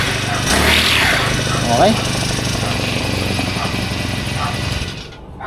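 A Honda 4-stroke grass cutter fitted with an aluminum trimmer head and nylon lines runs with a steady, buzzing engine drone that rises briefly near the start, then dies away at the end, while a voice speaks briefly.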